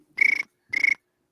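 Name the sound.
cricket chirping sound effect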